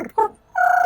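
A voice imitates a rolled-tongue trill in two short bursts, a brief warbling rattle, then a pause, then a longer, even, fluttering trill. It is close and fairly loud.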